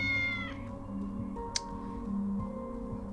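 A cat in the video game Tales of the Neon Sea gives a short meow over a steady electronic music bed, followed by a brief tick, moderately loud and alone without talking.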